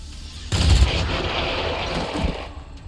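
Gunfire in the turn-based strategy game XCOM 2 Long War of the Chosen: a sudden loud burst of shots hits, then a sustained rumbling roar trails off behind it, with a smaller thump near the end.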